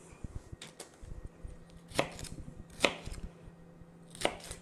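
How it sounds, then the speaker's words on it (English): A knife chops a seeded vegetable on a cutting board in a home kitchen, making quiet, quick taps broken by a few louder, crisp chops, with no voices. "Give it a little chop."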